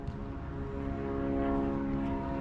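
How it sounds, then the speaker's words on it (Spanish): A small light aircraft drones overhead with a steady propeller hum near Playa del Carmen, holding at a constant level without fading away. "Hay una avioneta que va pasando por aquí arriba."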